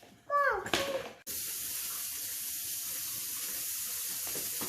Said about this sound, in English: so you just run water on the inside of it